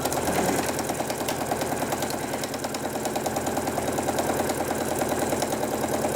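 A sewing machine fitted with a walking foot stitches thin fabric, producing a steady, rapid mechanical chatter and hum that runs continuously and evenly at close range throughout.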